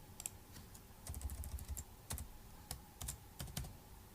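Typing on a computer keyboard while entering a spreadsheet formula, quiet irregular clusters of crisp key clicks and taps with short pauses between bursts, close and alone without speech.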